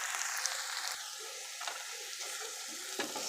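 Mushrooms sautéing in a hot pan with Walmart-brand Worcestershire sauce, garlic and onions, giving a steady close sizzle and crackle with a few stirring scrapes and no talking.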